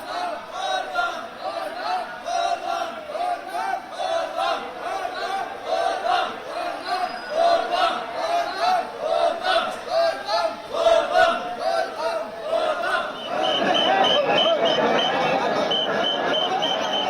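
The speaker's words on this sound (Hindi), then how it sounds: "हर हर महादेव के नारों से गूंजते बाबा के धाम।" Temple devotees chant Har Har Mahadev in a loud, dense crowd, rhythmic group shouts rising and falling throughout, swelling into a sustained roar near the end.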